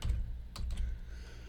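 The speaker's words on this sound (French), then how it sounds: "Je tape ça à l'écran à côté." Quick burst of computer keyboard typing as a name is entered, a handful of close, crisp key clicks clustered in the middle over a low background rumble.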